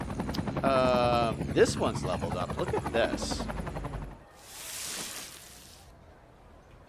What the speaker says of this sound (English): Got helicopters flying overhead.